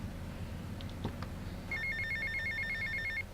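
A phone in a video game rings with a rapid electronic trill that repeats steadily and sounds close and clear after a few faint clicks, then breaks off abruptly.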